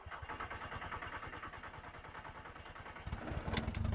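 A 5-cylinder MK2 streetcar engine cranks on the starter in an even rapid pulse for about three seconds, then catches and settles into a louder, rougher idle, close up.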